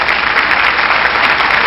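A short, dense burst of crowd cheering and clapping, steady and loud from start to finish, with no talk.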